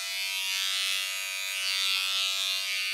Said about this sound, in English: I need to shave my belly